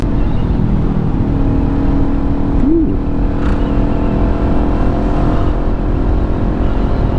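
A Kawasaki Ninja 400 motorcycle rides through heavy traffic, its loud engine drone and wind rush holding steady throughout, with a brief rising tone from nearby traffic partway through.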